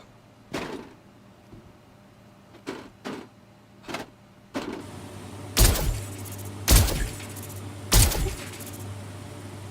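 Gunfire in the Star Citizen game echoing inside an enclosed metal interior: a few lighter knocks, then three heavy booming shots that ring and reverberate off the walls over a steady low hum.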